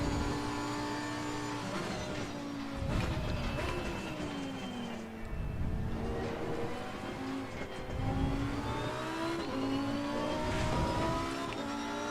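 A race car in Assetto Corsa Competizione at Kyalami drives on with a loud, steady engine drone, its pitch rising and falling as it shifts from second into third gear, with no voices over it.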